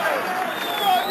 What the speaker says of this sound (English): The crowd are loving this.